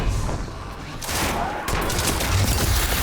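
Gunfire from the video game Destiny 2 rattles in a dense, loud, continuous fusillade, with a heavier surge of shots partway through and no clear pauses.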